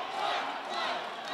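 Crowd at an MMA grudge match chanting in unison, a dense roar of many voices rising and falling in rhythm for over a second, loud and reverberant around the cage.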